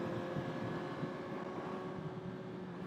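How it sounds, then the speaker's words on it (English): A 2022 Suzuki GSX-R1000R inline-four with an Akrapovic exhaust drones in a steady, sustained tone at speed, close and fairly loud, wrapped in rushing wind noise with no talk. "I do like the sound of the inline 4,"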